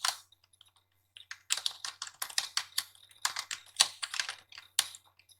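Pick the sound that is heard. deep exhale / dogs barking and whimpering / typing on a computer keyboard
typing on a computer keyboard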